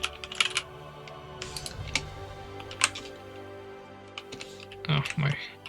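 Fingers tap on a computer keyboard in light, scattered clicks and short bursts. The sound is near but soft, with a voice talking over part of it.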